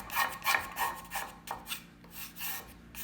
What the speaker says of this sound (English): So what I'll do is just turn the scraper backwards and almost lay it down.